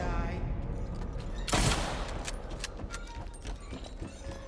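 Gunfire aimed at Eddie in the Silent Hill 2 Remake: a loud burst of shots, then a scatter of sharper cracks over a steady, noisy game background.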